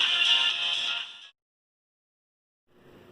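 Tinny, thin audio playing from a Nexus 5X phone's speaker at maximum volume, a bright, narrow sound lasting about a second before cutting to silence, then resuming faintly.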